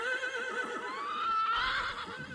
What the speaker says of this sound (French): 2 chevaux s'enfuient.